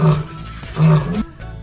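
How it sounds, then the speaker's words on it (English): African lion at the Jacksonville Zoo roaring in deep, loud bursts, two strong pulses with a grunting tail between, close and alone with no talk. "I've never heard a lion roar like the ones at the Jacksonville Zoo."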